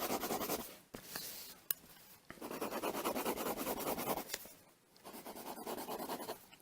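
Pencil scratching steadily across paper while colouring in an Allosaurus dinosaur drawing, continuous rubbing strokes with a few brief pauses and sharper taps, close and fairly quiet, no talking.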